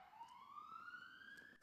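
A siren wails faintly in the distance outside, one long rising tone with harmonics sweeping upward over a second and a half, heard alone.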